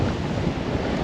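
Ocean waves wash against a sailboat on an open-sea passage between Australia and Indonesia, a continuous close rushing of water and wind with no break or voice.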